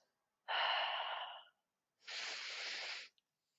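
Two distinct breaths during a yoga flow: a steady inhale of about a second, a short pause, then a longer, airy exhale of similar loudness, close and clear with no talking.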